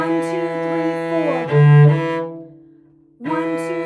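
Cello holding a sustained, tied E note on the first finger, bowed steadily for a few counts, then a brief gap before the bow resumes, heard solo and close.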